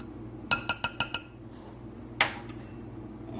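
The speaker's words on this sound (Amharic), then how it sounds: "እሱንም ጨምረውና በደንብ አድርጌ ከዱቄቱ ጋር እደባልቀዋለሁኝ።" A spoon mixes two teaspoons of baking powder and salt into flour in a bowl for homemade yeast-free tortilla bread. Five quick, bright clinks against the bowl ring out in an even rhythm, followed later by one softer scrape, with no talking.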